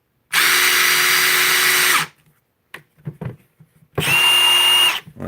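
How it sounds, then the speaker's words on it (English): Ridgid brushless impact driver on speed setting 2, loud and close, with two sustained whirring-hammering runs, the first about two seconds long and the second about one second, separated by brief quiet clicks. "this is probably the loudest impact driver I have ever used in my life"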